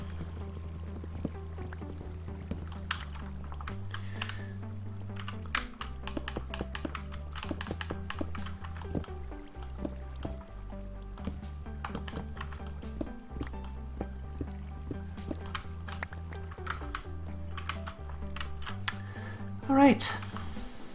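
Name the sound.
keyboard and mouse shift-clicking items while playing Minecraft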